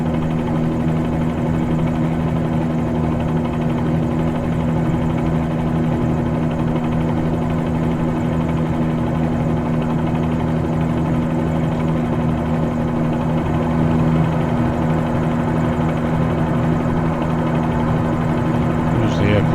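A helicopter engine and rotor in Microsoft Flight Simulator 2020 on a flight to Key West drone steadily and loudly, a constant low hum with a whining tone that holds unchanged throughout.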